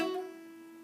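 A single guitar note rings out from a pinky hammer-on at the seventh fret, a clean sustained tone that decays quietly and is heard alone.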